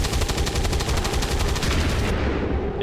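Rapid, loud volley of gunfire from cannon and shotgun overwatch shots in the turn-based strategy game XCOM: War of the Chosen, a dense burst of shots for about two seconds, then trailing rumble.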